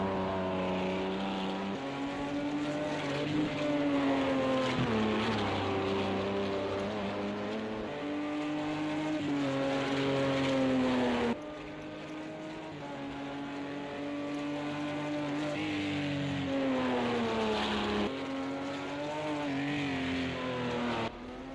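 Race cars at the Red Bull Ring in Project Cars 2 roar continuously, engines rising and falling through gear shifts with occasional tire noise, several cars loud and close throughout.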